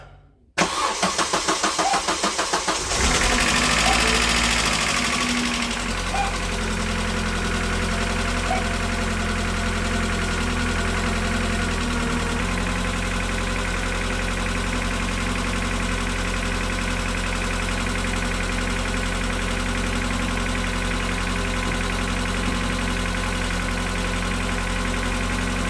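An Opel Astra G 1.8 16v, just fitted with a new timing kit and water pump, cranks briefly and catches, revs up and then settles into a steady, fairly loud idle for a long stretch.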